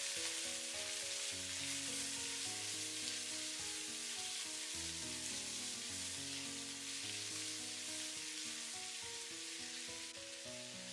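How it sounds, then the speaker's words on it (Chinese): Lean pork sizzles steadily as it is stir-fried in a hot wok, a constant frying hiss running under louder background music for the whole stretch. "再把瘦肉倒進來煸炒至變色"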